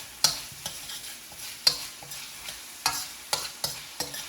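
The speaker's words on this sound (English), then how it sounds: "you can hear it starting to" Collard and mustard greens sizzling in a hot pan, a soft continuous fry punctuated by sharp scraping clicks as they are stirred, with about ten clear strikes, no talking.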